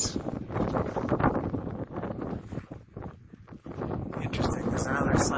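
Wind gusting across a mountain trail on Humphreys Peak near Flagstaff, Arizona, buffeting the microphone as a loud, continuous rush that dips briefly midway before surging again.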